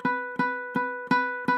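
A ukulele note fretted cleanly right beside the fret wire, plucked five times at a steady, even pace, each ringing clear and sustained until the next pluck, close and alone.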